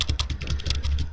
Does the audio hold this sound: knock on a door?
no